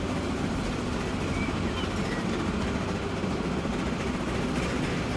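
Steady, dense rumble of a train rolling through a tunnel in Transport Fever 2, a continuous low roar that holds loud and even throughout, with no talking over it.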